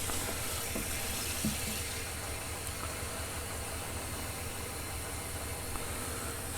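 Water runs steadily from a tap into a container, a continuous even rush of filling with no voices.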